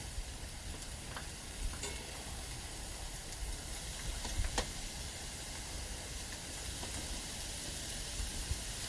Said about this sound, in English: go ahead and add our beautiful skirt steak on this side